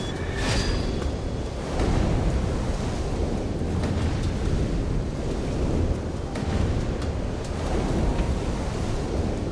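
Ocean waves in the video game Light Fall surge and roll as a loud, continuous roar of surf with wind-like rushing, swelling and easing in broad waves, no talking.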